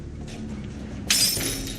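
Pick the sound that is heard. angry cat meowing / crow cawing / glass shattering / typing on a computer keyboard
glass shattering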